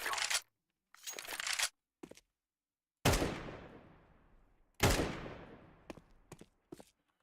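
Bursts of automatic gunfire from a weapon being sprayed in the video game CS2, several loud rapid volleys of differing length with ringing decay and short gaps between them, with no talking.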